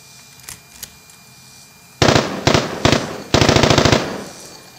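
Deactivated fake machine guns fire several rapid bursts, loud and close, each a tight string of sharp cracks, the last burst the longest, after a couple of faint clicks.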